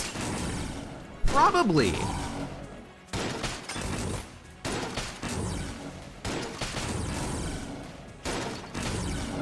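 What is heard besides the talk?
gunfire from the video game Enter the Gungeon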